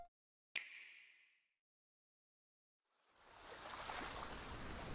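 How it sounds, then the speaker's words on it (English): Waves and rushing water in filmed footage swell up after a sharp opening hit and a stretch of silence, a broad, steady wash that grows louder toward the end. "Okay, we got the water."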